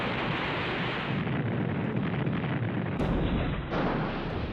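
Naval guns on U.S. destroyers fire in battle, a dense roar of repeated heavy blasts and rumbling booms, loud and continuous, with a sharper report near the three-second mark.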